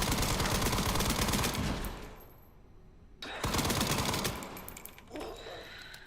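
Rapid, sustained automatic gunfire from the survival horror game Resident Evil Requiem, loud and dense bursts that cut out briefly midway, then resume as another heavy, continuous volley.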